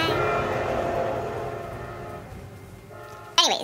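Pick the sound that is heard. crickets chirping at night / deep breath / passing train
passing train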